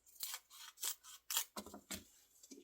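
A series of close, crisp scissor snips cutting a Streptocarpus leaf into sections, about six quiet cuts in an irregular rhythm with no voices.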